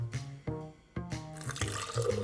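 Water pours into a mixing bowl while preparing a recipe: short splashy pours come in a few bursts with brief gaps, then a longer trickle follows, close and fairly clear.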